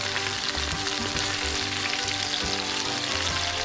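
Swordfish fillets sizzle and fry steadily in a pan, a continuous close crackle with a faint rhythmic knocking underneath.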